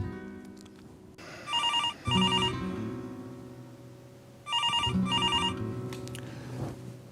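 A telephone rings in two loud bursts of double electronic trills, each burst about a second apart, separated by a few seconds of quieter background hum.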